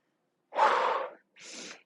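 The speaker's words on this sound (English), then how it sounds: "trying to catch my breath" A person catching their breath after a cardio workout, two heavy breaths close to the microphone: a long, loud gasping inhale followed by a shorter, softer exhale.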